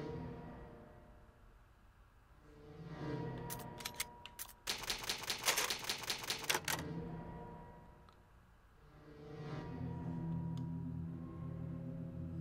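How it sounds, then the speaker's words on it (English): An old typewriter in the Resident Evil Remake video game clatters through a burst of rapid mechanical keystrikes while a progress save is made, set between quieter stretches of low ambient game music. "Old typewriter. You can save your progress."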